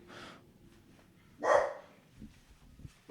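Dogs barking indoors in short loud bursts, one sharp bark then another starting at the end, with low rumbling between and no talk over them.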